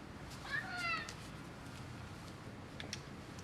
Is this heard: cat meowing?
yes